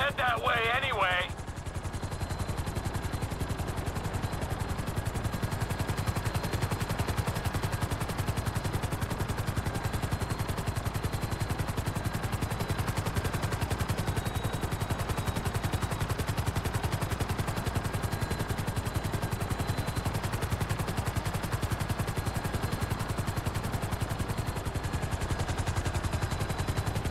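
A helicopter hovers in the GTA 5 video game, its rotor thrumming in a loud, steady broadband roar that runs nearly the whole time, preceded by a brief voice at the start.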